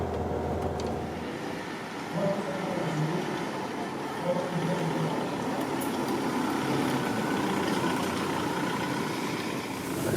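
A VW Beetle with a 1.9 TDI 90-horsepower diesel engine drones steadily through a test ride, a constant loud engine and road rumble from inside the car with no talking.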